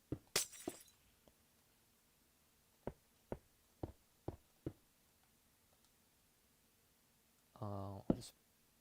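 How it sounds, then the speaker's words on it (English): Wooden barrels smashed one after another in a building game, a few sharp cracks followed by a run of evenly spaced breaking thuds, then a brief tonal burst near the end. "I'll just break all these barrels, it's fine."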